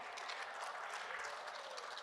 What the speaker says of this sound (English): And the Renter crowd goes wild for Dan Phelp at Bellpost Hill.